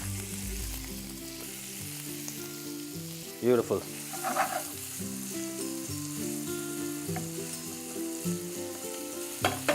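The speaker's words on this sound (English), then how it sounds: "let's get down to frying our smoked salami" Smoked salami frying in a generous pool of olive oil, a steady close sizzle running throughout, with stirring clatter and a brief spoken word partway through.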